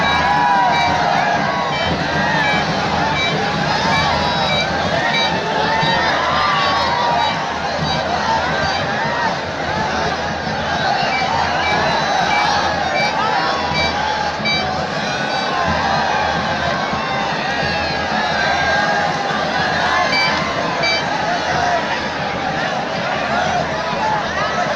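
A crowd of thousands roars and cheers at a tree-climbing festival, a constant dense wall of shouting, voices and babble, loud and close throughout with children shouting among them.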